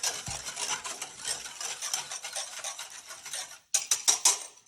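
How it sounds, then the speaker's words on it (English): A cream and milk mixture going into a heating pan and being stirred, a close scraping, swishing rub against the pan with light clinks, a short pause, then a few sharper scrapes near the end. "Let's go ahead and add the rest of that cream and milk mixture."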